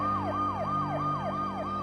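A wailing siren sweeps up and down in steady repeated cycles, loud and continuous over a low engine hum, like a police car passing close by.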